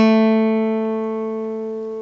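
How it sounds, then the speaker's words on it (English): A single guitar note, A, fretted with the second finger on the third (G) string, rings out clearly and alone, sustaining and slowly fading over about two seconds. "A is going to be the second finger on the third string or the G string."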